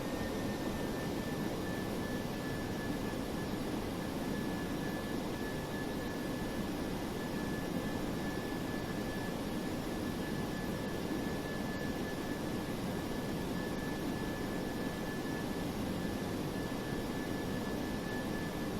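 Jet engines of a DC-8-73F freighter in Flight Simulator X, a steady broadband roar with a thin high whine held throughout, constant and fairly loud, with no talking.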